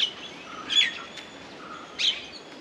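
An Asian koel, a cuckoo, calls twice in a forest, with two short bright bursts standing out over a quiet, steady background.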